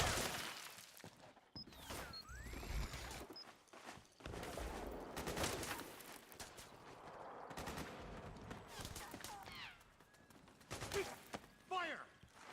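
Bursts of automatic and single-shot gunfire crackle in a Metal Gear Solid 4 firefight during suppressing fire, loud volleys broken by brief pauses, with scattered shouting voices and clattering mechanisms mixed in.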